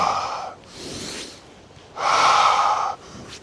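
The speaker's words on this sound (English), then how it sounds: "Begin to connect to your breath. Real deep, intentional breaths." Deep, deliberate breaths during a low-impact full-body workout: a long audible exhale, a softer pause, then another strong drawn-out breath, close and clear with no talking.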